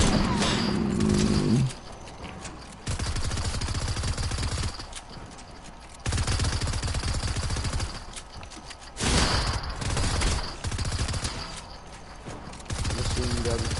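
Video game gunfire crackles in rapid bursts during an online match, with stretches of dense, loud shooting broken by short pauses and switching back and forth across the clip.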